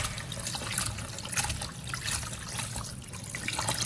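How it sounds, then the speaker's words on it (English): Clean water splashes and trickles steadily while anchovies are rinsed by hand, a continuous close, busy sloshing with small surges. "rinse the anchovies several times in clean water until there's no blood or slime left"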